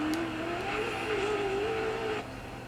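A rally car engine drives steadily in the Dirt 4 racing game, a close, continuous tonal drone that wavers slightly in pitch before it eases off near the end.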